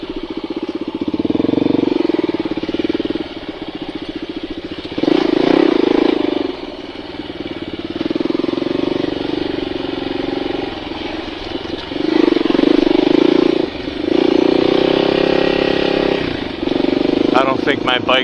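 A Honda XR400R dirt bike engine running on a desert ride, a steady loud mid-pitched thrum with repeated surges as the throttle opens, clattering a little, with a voice talking over it.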